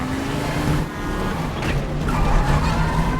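Cars in a chase scene from the film Don't Worry Darling roar past with engine noise and brief tire skids, loud and close under dramatic film audio.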